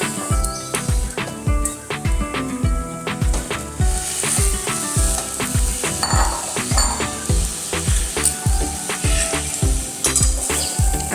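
Potato filling for aloo paratha sizzles and fries in a pan, loud and close, with steady crackling broken by regular scraping and clinking strokes of a spoon stirring it, and no voices.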